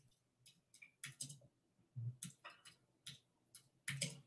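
Faint, uneven keyboard typing done with two fingers, sparse separate key taps at an irregular pace, quiet and without talk.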